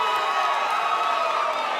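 A steady roar of an arena crowd cheering at an SFT Combat MMA featherweight championship fight, sustained and loud with no break.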